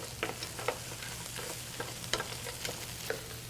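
Lobster shells cook in a pan with mirepoix and butter, giving a steady sizzle and fry with scattered pops and stirring scrapes under a low constant hum, close by and with no talking.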